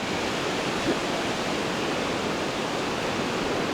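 Steady broadband wash of surf breaking on a beach on the Omani coast, constant and fairly close, with no voices, as fishermen come out of the water.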